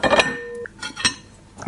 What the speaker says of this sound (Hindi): सुबह सुबह रंजना की सास किचन में जोर जोर से बर्तन पटकने लगती है